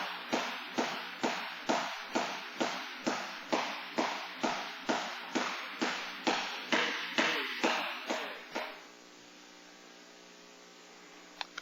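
A jump rope slapping the floor during skipping in Muay Thai kickboxing training, about seventeen crisp, evenly spaced taps in a steady rhythm, followed by a faint electrical hum once the skipping stops.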